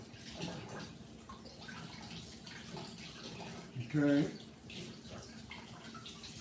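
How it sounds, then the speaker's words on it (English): Cold tap water runs over shrimp in a kitchen sink, a steady soft splashing hiss that swells briefly midway, with a short spoken word. "run all of this under cold running water"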